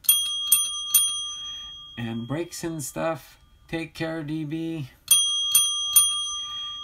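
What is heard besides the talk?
bell ringing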